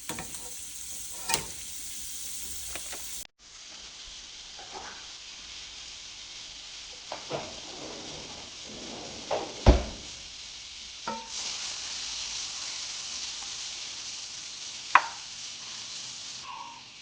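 Three tablespoons of butter sizzle steadily in a pan as the base for a garlic sauce, a constant hiss broken by a few sharp knocks and scrapes of a utensil against the pan.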